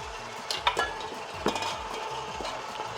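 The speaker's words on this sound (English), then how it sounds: "we give this a little mix to get the onion and meat initially mixed a little bit" Ground meat and onion for Persian koobideh kabob are stirred together in a bowl, with soft, wet squelches and a few light scrapes of a utensil against the side, close by.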